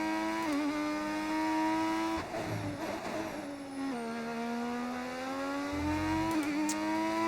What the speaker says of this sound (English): That McLaren is zooming.